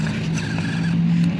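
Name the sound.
John Deere tractor gearbox making noise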